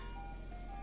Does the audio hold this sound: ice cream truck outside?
yes